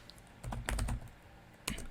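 Typing on a computer keyboard, two quick clusters of close, soft key clicks separated by a short pause, with faint room noise between them.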